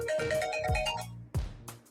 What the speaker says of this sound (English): my phone, I put it on silent, but I guess it's just talking to me